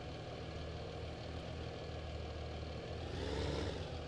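Tractor engine idling in Farming Simulator 15, a steady low rumbling drone with a slight swell toward the end, faint and alone without talk.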